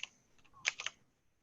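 Brief burst of computer keyboard typing, a few quick key clicks clustered near the middle, faint and close with no talking.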